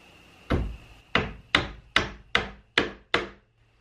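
Small brad nails are hammered into wooden trim on a castle bunk bed, seven sharp, ringing knocks at a quick, even pace, close by and alone with no talking.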